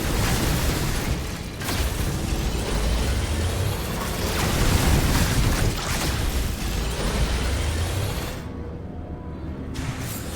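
A super mega fire beam weapon in Metroid Prime 4 blasts in long, loud roaring bursts with booming, explosive rumbles, then cuts abruptly into a quieter tail.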